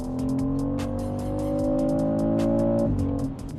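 A BMW X3 M50 SUV launches hard under launch control, its engine note climbing steadily through a gear with a strong rising drone heard from inside the cabin, then a brief shift dip near the end.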